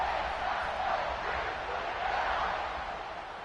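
Football stadium crowd at a Penn State versus Ohio State game cheering in a steady, sustained roar that fills the whole stretch, with no single voice standing out.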